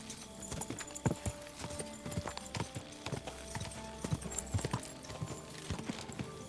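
Horse hooves clip-clopping at a steady riding pace in the video game Kingdom Come Deliverance 2, crisp and close, repeating hoofbeats over a constant outdoor ambience.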